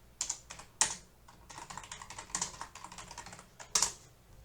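Keys clack on a computer keyboard in quick irregular bursts, with a few louder sharp strikes standing out from the close, dry tapping.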